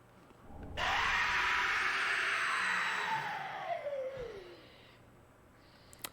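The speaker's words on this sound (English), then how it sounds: "You might want to mute because there's another scream." A monster's scream in the dark fantasy game Dark Souls 3, a long, shrill wail that starts suddenly at full strength and slowly drops in pitch as it fades over several seconds.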